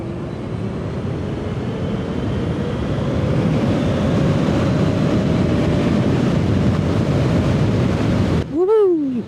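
Electric motorcycle accelerating hard in sport mode, a whining motor tone rising steadily under heavy wind rush for several seconds before cutting off abruptly, followed by a short warbling sound.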